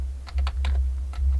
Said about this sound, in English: I'm typing it in